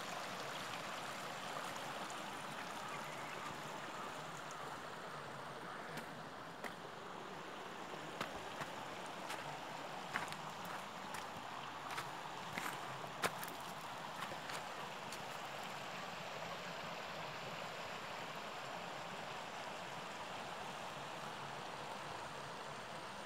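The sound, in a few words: flowing water of the Ferozpora stream (nala) after flood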